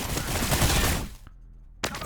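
Video game gunfire bursts in a dense, loud volley for about a second, then a short pause and one more sharp shot.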